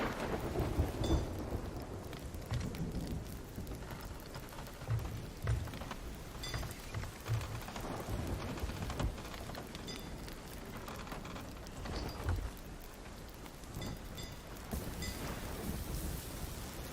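Steady rain pours over a sea storm in Sea of Thieves, with deep rolling thunder rumbling repeatedly beneath the constant hiss, loud and close around the ship, no voices.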